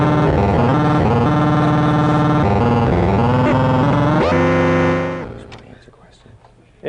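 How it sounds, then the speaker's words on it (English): A circuit-bent device plays back recorded sounds as a loud, dense, distorted electronic cacophony of shifting buzzy tones, cutting off abruptly after about five seconds into near quiet. "This even has a playback and a sort of memory function where it can play back sounds for you."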